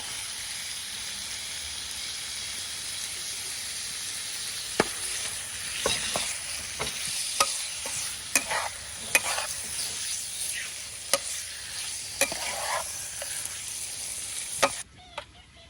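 Beef with fish sauce and salt stir-frying in a hot pan, a steady loud sizzle with sharp scraping clicks of the spatula stirring at irregular intervals, alone without talk.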